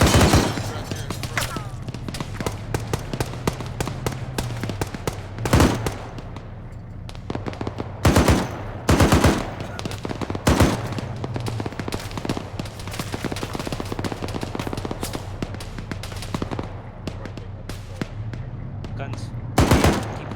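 Bursts of machine gun fire in a video game rattle loudly in repeated volleys, with sharp isolated shots between them and a low background drone beneath.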